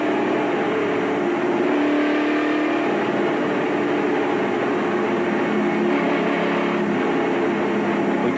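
Tim Steele's ARCA race car heard from a roof-mounted camera on a 500 km oval race, with a loud, continuous engine roar and wind rush held steady throughout.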